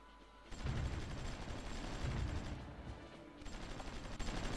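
Artillery and gunfire in the strategy war game Supreme Ruler Ultimate, a steady rolling barrage of booms and crackling shots that drops briefly and then returns, with no talk.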